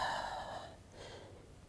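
A single breathy exhale from a person doing a Pilates exercise for neck and shoulder pain. It starts strong and close, then fades into quiet breathing, with no speech.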